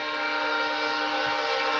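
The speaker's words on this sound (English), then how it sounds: "The train's here." A train passing near a house, a loud sustained rumble and roar with a steady horn-like tone running throughout, close by and heard alone.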